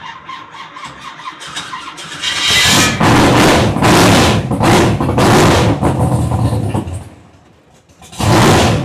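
A big block engine that has sat for close to a year cranks hard with a loud, harsh whirring starter, sputtering and nearly catching in long bursts, dropping off briefly, then cranking again.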